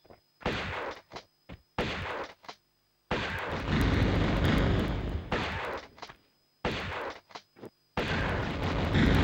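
A shotgun fires repeatedly in the PS1 game Tomb Raider: loud booming blasts come in bursts separated by short silences, with one longer stretch of sustained rumbling, and no talking.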